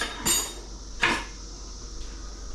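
A metal lid is set on a pot of sinigang, two clear clanks of metal on metal a moment apart, followed by a faint third tap against a quiet kitchen background.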